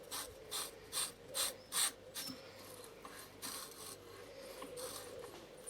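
Quiet rasping, ratcheting scrapes in short repeated bursts, then softer continuous grinding, as a threaded ring is screwed onto a clay processing device.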